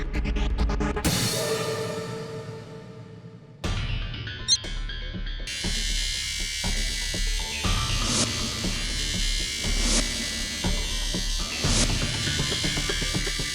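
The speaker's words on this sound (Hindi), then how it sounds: "इस बार एसी चलाकर।" An air conditioner is switched on in a courtroom and runs with a steady mechanical hum and buzz, loud and continuous after a brief quieter start, with clattering room noise layered over it.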